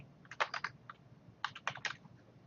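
Quick bursts of computer keyboard typing while an internal note is entered, two short clusters of crisp key clicks separated by a pause, close and alone.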